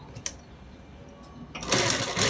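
A sewing machine stitching a child's frock for a 12-year-old, sewn from a blouse piece, starts up loud and close after a quiet stretch and runs steadily to the end.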